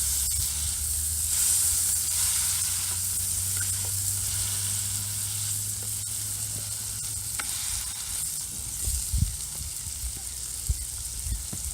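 Four hamburgers frying on a wood-fired brick rocket stove, a constant close sizzle with scattered pops and crackles that grow busier toward the end, no talk over it.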